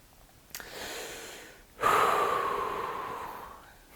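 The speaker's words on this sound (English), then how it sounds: "Can you imagine just like 30 seconds of us breathing?" Breathing into close microphones, with a soft puff near the start, then a strong, sustained exhale or snort-like breath from about halfway that slowly fades. No talking.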